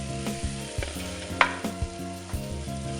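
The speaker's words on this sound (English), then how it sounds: "once you got your garlic in there, simmering a little bit, getting your oil flavored, you're gonna add your beef" Beef sizzles and fries steadily in garlic-flavored oil for a Carne Guisada, with occasional clinks and stirring scrapes of a utensil in the pan, close-up and continuous without speech.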